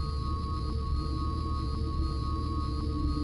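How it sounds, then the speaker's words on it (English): A portal in Spyro: A Hero's Tail gives off a steady, humming sci-fi drone with sustained tones and faint pulsing pings, continuous and unchanging throughout. "this is the portal sound from Spyro into the Dragonfly"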